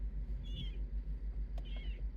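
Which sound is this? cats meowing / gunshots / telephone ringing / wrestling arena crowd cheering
cats meowing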